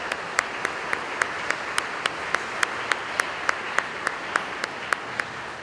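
An audience at a high school commencement claps in honor of a family, a steady patter of applause with sharp individual claps that stay even and moderately loud throughout, without talk.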